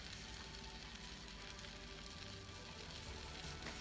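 Butter melting in a pan gives a faint, steady sizzle with light crackle, close by and continuous with no talking.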